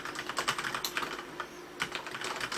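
Soft, quick keystrokes on a Corsair K68 waterproof mechanical keyboard patter in an irregular close-up run, with a short pause midway and then more presses.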